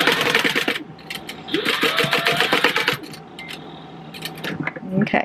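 A sewing machine stitches a tote bag seam in short bursts, each run of rapid needle strokes stopping and restarting as the fabric is repositioned, close and fairly loud.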